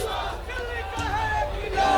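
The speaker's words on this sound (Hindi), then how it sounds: "इस तरह से जो लोग हैं वो यहाँ पर केजरीवाल के समर्थन में नारे लगा रहे हैं" A large crowd gathered at the Hanuman temple in Connaught Place chants slogans in support of Kejriwal, a dense, continuous roar of voices in unison with rising shouts.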